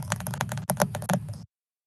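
Quick, crisp keystrokes on a computer keyboard clatter in a brisk, slightly uneven burst for about a second and a half, close and clear, then stop abruptly into silence.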